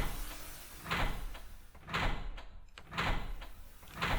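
A metallic, grating door in the horror game Forest of Drizzling Rain rattles and scrapes in repeated bursts, roughly once a second, close and fairly loud, with no talk.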